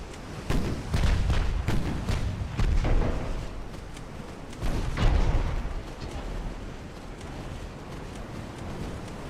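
Warship guns firing in Ultimate Admiral: Dreadnoughts, a French fleet in 1890, several deep booming salvos in irregular bursts with heavy rumbling low end, some fading into distant rolling thunder.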